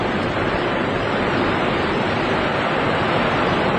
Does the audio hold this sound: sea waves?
yes